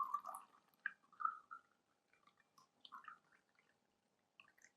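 Water poured into a titration beaker holding a pH electrode in a lab, heard as faint, scattered drips and small splashes with quiet gaps between them.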